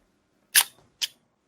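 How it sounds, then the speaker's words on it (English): An old film camera's shutter button, stuck in, releases: a sharp close mechanical click followed by a second shorter zip-like snap, alone in silence. "that last zip sound is me releasing the shutter button that's kind of stuck in"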